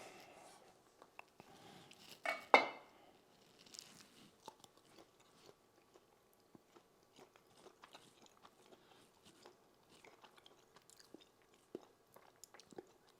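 Someone takes a bite of a slice of homemade summer sausage studded with jalapenos and chews quietly, with one sharp bite early on and then soft, sparse chewing clicks nearby.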